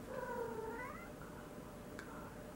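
A pet cat lets out a long, drawn-out meow that bends upward in pitch, heard faintly against a steady background hiss, with a brief click near the end and no one speaking.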